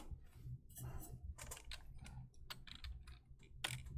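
Rapid keystrokes on a computer keyboard while entering coordinates into an online algebra tool, a close, irregular burst of clicks with short pauses between clusters.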